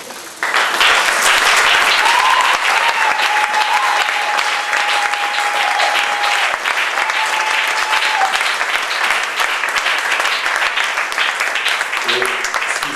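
A church congregation stands to acclaim the Lord in sustained loud applause, with cheering and a high whistle or ululating voice rising over the dense clapping, which runs steadily throughout.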